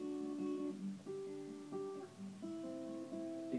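Acoustic guitar arpeggio picking the three highest strings of each chord in alternation, clear plucked notes in a steady rhythm, played alone and fairly quiet.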